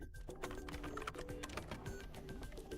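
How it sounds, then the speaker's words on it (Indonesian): Keys clicking on a computer keyboard as a short word is typed into a search field, with quick irregular taps over a faint background hum. "di sini cukup ketik Sony"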